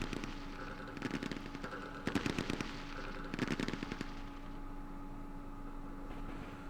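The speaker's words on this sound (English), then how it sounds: "Let's call in the artillery." Artillery fire in the Vietnam-era wargame Campaign Series Vietnam, set at Dien Bien Phu: three bursts of rapid, crackling impacts spaced about a second apart over a steady background hum, moderately loud, then fading to quiet.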